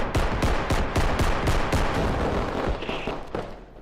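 Rapid gunfire rings out in the video game BodyCam, a fast string of sharp shots in steady bursts that fades out near the end, with no talk over it.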